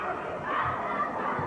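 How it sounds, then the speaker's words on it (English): Basketball crowd at a 1990 high school girls' game, Gate City Lady Devils at Twin Springs, shouting and jeering at the referee in a steady, loud roar of mixed voices throughout. "some bad remarks coming from the crowd at the referee"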